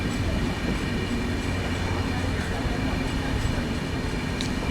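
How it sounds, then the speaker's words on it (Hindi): A Humsafar Express train rolls through Varkala railway station without stopping, a steady loud rumble and rattle of wheels and carriages heard from on board, with no break for the whole stretch. "अभी अपनी ट्रेन पहुंच चुकी है वर्कला रेलवे स्टेशन।"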